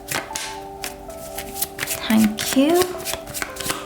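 Tarot cards are shuffled close up in a rapid run of crisp riffling and tapping, with a short spoken phrase partway through.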